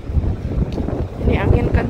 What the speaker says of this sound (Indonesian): Ini angin kencang banget sampai susah mau jalan.